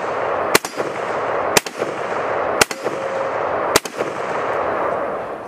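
A rifle fires four sharp, loud shots at a steel silhouette target, spaced roughly one second apart over steady outdoor background noise, with no talking.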